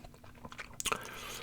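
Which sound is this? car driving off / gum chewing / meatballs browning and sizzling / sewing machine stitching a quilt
gum chewing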